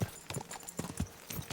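Horse hooves clip-clop in the video game Kingdom Come: Deliverance II. Several distinct close hoofbeats land in an uneven walking rhythm, with faint background sound between them.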